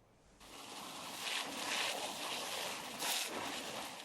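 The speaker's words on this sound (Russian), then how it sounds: "Работники Уфимского парка лесоводов ежедневно обливают медведей из шланга, чтобы хоть как-то помочь им справиться с высокой температурой." Steady broadband hiss of water sprayed from a hose over bears in a city park in Ufa, a continuous rushing spray that swells and eases over a few seconds.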